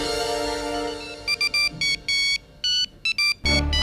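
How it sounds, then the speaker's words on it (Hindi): Electronic phone ringtone chiming in a rapid, irregular series of bright beeps after a low background hum, loud and close, ending as a heavier sound cuts in. "ये शायद अवनी का फोन है"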